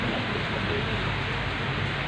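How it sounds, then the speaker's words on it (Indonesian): Heavy rain pouring steadily outside, a dense, continuous hiss with no breaks and no voices. "Tapi ya di belakang hujan tuh, hujan terus ya."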